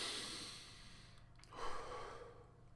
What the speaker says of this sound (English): Have intentional, deep diaphragmatic breaths.